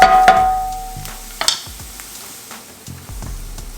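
Garlic cooking in a hot cast iron pan with the heat turned off, giving soft, faint sizzling and brief stirring scrapes and clinks up close, with quieter pauses between.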